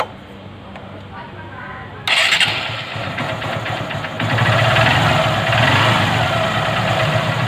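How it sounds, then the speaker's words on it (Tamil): A motorcycle engine freshly rebored is started after a quiet stretch, then settles into a steady close idle with a loud rumbling, knocking texture that grows fuller partway through, while someone speaks. "இப்போ வண்டியை ஸ்டார்ட் பண்ணிட்டு இன்ஜின் ஆயில் அப்படின்னு பார்க்கணும்"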